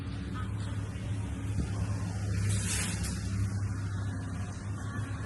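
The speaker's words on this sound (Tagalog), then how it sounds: "Ang daming sasakyan sa paligid." Cars idling and moving around a Walmart parking lot, a steady low engine rumble with a passing vehicle swelling slightly in the middle, continuous and moderately close.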